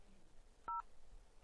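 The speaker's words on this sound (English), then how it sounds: "Dial this number here." A telephone keypad sends one short DTMF dialing tone, clear against a quiet room, as a number is dialed; a second tone begins right at the end.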